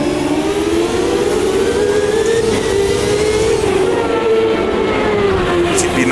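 A retro CART '98 Indy racing car in Automobilista 2 drops down through the gears to first, the loud engine note rising and falling in a sustained, close whine as revs swing with each shift.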